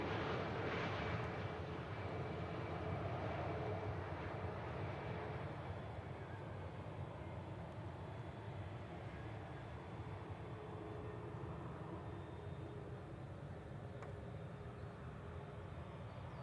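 Aer Lingus airliner at Manchester Airport, a steady broad jet roar heard from outside that is loudest at the start and eases slightly as it continues, with no talking.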